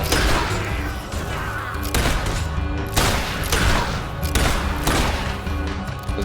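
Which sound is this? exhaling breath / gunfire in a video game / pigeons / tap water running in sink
gunfire in a video game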